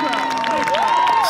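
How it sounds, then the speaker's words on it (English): Soccer crowd at a Brookline versus Lincoln Sudbury game, heard as a short, loud burst of cheering and shouting with a rising and falling voice standing out over the crowd. "Crowd for both teams are chanting here"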